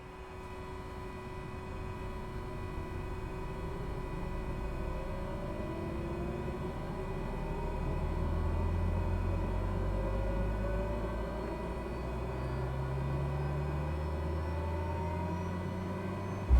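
A Cessna 208B turboprop starts up in a flight simulator, a steady whine and rumble building slowly as rising tones sweep upward over a continuous low drone.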